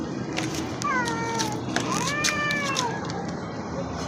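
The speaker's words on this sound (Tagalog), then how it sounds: "Tapang ng pusang to." A tomcat gives several drawn-out, rising and falling meows, fairly close and moderately loud, over steady background hiss and faint scattered clicks.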